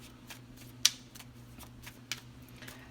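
Tarot cards are shuffled in a few quiet riffles and flicks, with two sharper card snaps standing out against a faint background hum.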